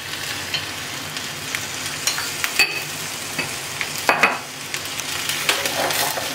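Spices, salt, turmeric and coriander-cumin powder, go one by one into a hot frying pan over lowered heat, with a steady soft sizzle under close scraping stirs and a few sharp clinks of the spoon against the pan.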